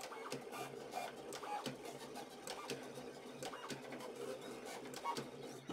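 A Silhouette cutting machine cuts heavy textured cardstock with a steady mechanical whir, punctuated by frequent short clicks and ticks as the blade carriage moves back and forth at close range.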